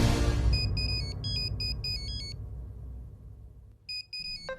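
A mobile phone ringtone in a Hindi TV serial scene plays bright, repeating electronic melody tones over a noisy, rumbling background, then pauses and starts up again briefly near the end.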